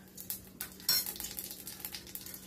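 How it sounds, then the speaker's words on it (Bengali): Whole cardamom, cumin seeds and other whole spices fry in a pan, with a soft sizzle under scattered light scrapes and clinks of a spoon stirring, one louder clatter near the start. "একটু ফ্রাই করে নিচ্ছি"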